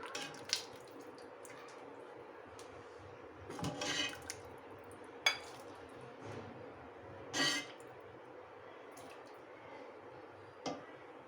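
A spoon scoops aloo matar curry from a pot into a bowl, with soft wet squishes and several distinct clinks of metal on cookware, fairly quiet and close with no talking.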